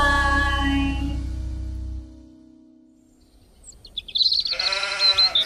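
A sheep gives a long bleat, then after a short quiet gap a second, shakier bleat follows, both fairly close and clear over a faint low background.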